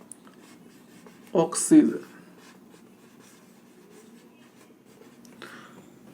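Chalk or marker scratching out chemical symbols on a classroom board in short, quick strokes, heard close alongside a teacher's voice.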